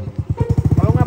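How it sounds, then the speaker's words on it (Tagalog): A motorcycle engine runs close and loud, its low, rapid, regular putter pulsing through the short moment, with a voice nearby. "Kasaba kay motor."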